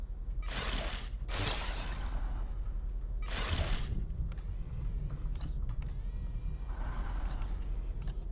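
A locked door rattled and tried in the video game Republique, with several loud creaking, clattering bursts in the first four seconds, then quieter mechanical ticks and a soft whoosh.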